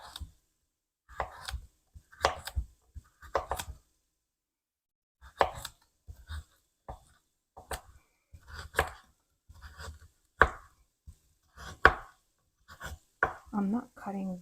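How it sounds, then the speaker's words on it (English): A knife chops vegetables for a crock pot vegetable curry on a cutting board, a series of crisp, close knocks in irregular bursts with pauses, soft-spoken talk mixed in near the end. "I'm not cutting very thin because I know that they will stay in this crock pot for a while."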